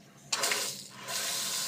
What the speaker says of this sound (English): turn on the water